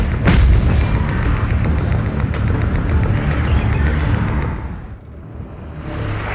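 An array base is destroyed in the Zenless Zone Zero video game, unleashing a loud, rumbling explosion that roars on for several seconds, then dips briefly and swells back.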